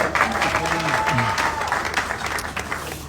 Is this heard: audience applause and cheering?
yes